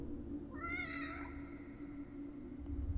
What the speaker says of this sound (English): What's up with that cat?